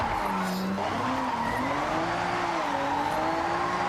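A car drifts in the racing simulator Assetto Corsa, its engine droning steadily while the tires squeal in long, wavering howls that rise and fall through the slide, loud and continuous.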